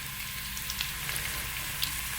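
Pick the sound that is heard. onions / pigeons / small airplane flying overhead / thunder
onions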